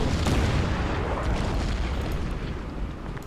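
A deep, rumbling artillery blast from the strategy war game Order of Battle rolls out loud and close, then slowly fades across a few seconds.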